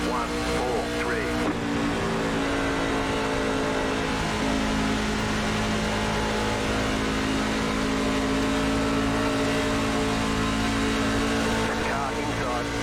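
A NASCAR stock car engine drones continuously at racing speed around Atlanta in iRacing, a loud, steady, near whine with small pitch shifts, while a driver talks over it.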